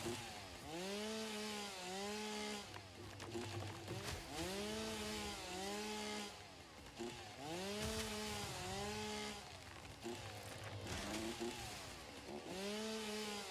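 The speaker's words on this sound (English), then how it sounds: "Because I got a zoom chainsaw." Chainsaw cutting wood in the video game Satisfactory, rising and falling in repeated revving bursts with a whining, sawing tone, several cuts in steady succession at moderate volume.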